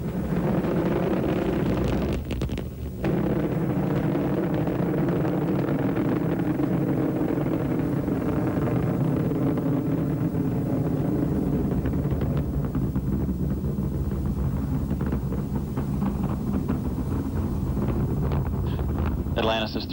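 Space Shuttle Atlantis's three main engines roar during launch on the way to rendezvous with Space Station Mir, a steady, dense, wind-like rumble that stays loud and continuous throughout.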